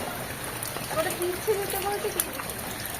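Steady rain falls on an outdoor surface as a dense, even hiss with scattered drop patters, while someone talks over it in the foreground.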